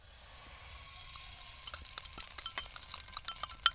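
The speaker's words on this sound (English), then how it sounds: "So now we start to fry, everyone. First we put oil," Oil heats in a pan before corn goes in, giving a faint, low sizzle that builds over time, while scraping and clinking stirring strokes get louder toward the end, close by with no voices.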